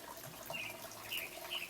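Water flows steadily at a morning meditation retreat, a continuous close splashing trickle with bright bubbling accents, heard alone.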